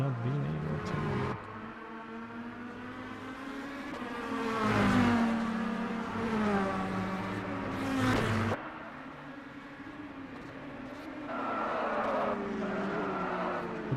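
Race cars in the ASRC T5 Series race at Spa roar past in sustained engine drones, rising and falling as they pass at moderate distance, with faint commentary underneath.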